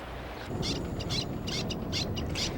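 A little tern calling at its nest on gravel ground beside a river: a series of short, high, piercing calls repeated in quick succession over a steady outdoor background.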